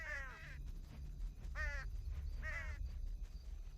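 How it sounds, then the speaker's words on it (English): Crows in the game Sacred Gold give three harsh caws at roughly one-second intervals, faint and slightly distant over a low rumbling ambient background. "A bunch of crows."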